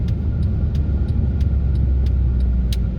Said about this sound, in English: It has a shift, has a smooth downshift and upshift